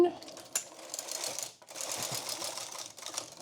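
Knitting machine carriage drawn across the needle bed at tension 0, a rattling, clattering mechanical sweep in two passes with a brief pause between, with some talk over it.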